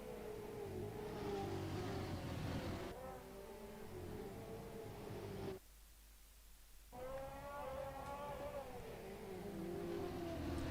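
Touring cars race on the track at Newcastle, their engines droning and shifting pitch as they pass, held at a moderate distance with one brief dip to near quiet before the roar returns.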